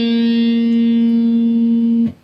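An electric guitar note on the fourth string sustains clearly and then cuts off abruptly near the end. Any hammer-on with the little finger onto the 8th fret is not distinct, and the note is heard close and alone.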